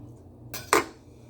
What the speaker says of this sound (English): Just cutting the tips off of the lemon.